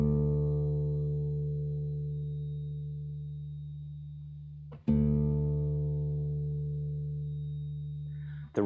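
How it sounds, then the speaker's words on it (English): Guitar's low E string, tuned down a whole step to D for drop D tuning, is struck twice. Each low note rings long and steady and slowly decays, alone and close. "So the low E string now will sound like this."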